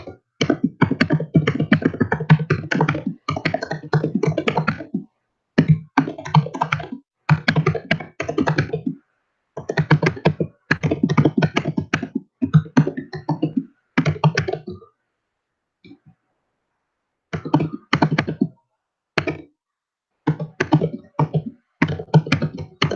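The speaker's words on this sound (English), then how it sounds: "do I want to type it out here?" Someone types on a computer keyboard in quick bursts of close, crisp key clicks, separated by short silent pauses, with a longer lull near the middle before the tapping picks up again.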